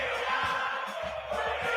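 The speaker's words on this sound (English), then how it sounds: "4 million people at a fucking parade" A massive parade crowd of millions creates a dense, continuous roar of cheering and shouting that holds steady throughout, with scattered louder calls rising out of the din.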